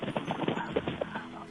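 A caller's microphone picks up an electric fan as rhythmic, choppy buffeting thumps, uneven, close and fairly loud, resembling clip-clopping hooves, with no clear words.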